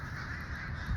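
Crows caw in the sky above a house, a faint, distant flock squawking steadily for a brief moment.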